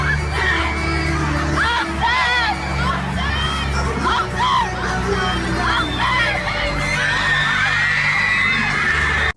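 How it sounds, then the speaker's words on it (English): A packed crowd of girls at a pop concert screams and shrieks continuously, loud and dense, with high whoops rising over a constant roar and music underneath. "all these girls are screaming his name"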